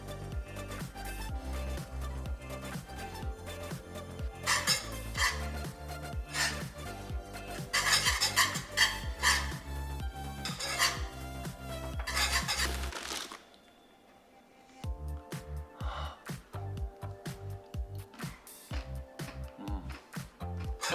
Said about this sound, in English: about 1 cup and stir that up until that melts